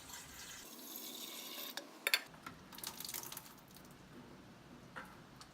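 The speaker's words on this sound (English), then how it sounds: "carefully pour about this much water back inside the urn just to rinse it out" Water poured back into an empty coffee urn to rinse it, a splashing fill sound with brief clinks and handling noises, close and moderately loud with no talking.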